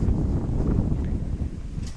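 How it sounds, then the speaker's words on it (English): Wind gusts across an outdoor baseball field during a wood bat tournament game, a low, loud buffeting rumble on the microphone that continues throughout the clip. "the wind's starting to really gust up"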